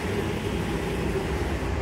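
Steady, dense low rumble of a diesel multiple unit idling at a heritage railway station, constant and close with no pauses or voices.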